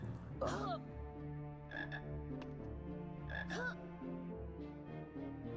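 Frog croaking in the 2001 PC game Harry Potter and the Sorcerer's Stone, several raspy croaks at moderate volume over steady background game music, no talking.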